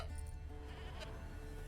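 A single goat bleat in the video game The Witcher 3, faint and brief, over a low steady background.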